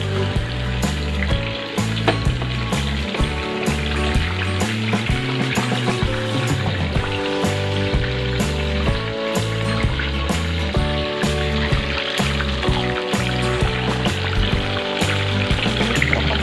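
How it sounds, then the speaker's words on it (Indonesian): Steady, dense sizzling of fish frying in hot oil, loud and close, with crackles and pops continuing throughout. "sekarang waktunya kita menggoreng"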